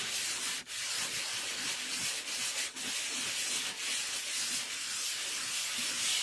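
Paper rubbed over again and again to transfer an origami butterfly picture, a steady dry scraping close by that runs continuously with brief breaks.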